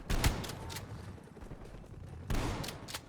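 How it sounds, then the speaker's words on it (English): Shotgun blasts in the video game Black Ops Cold War: two loud, sharp reports about two seconds apart, each with a short ringing tail over a steady low game rumble. "This shotgun should make life easy."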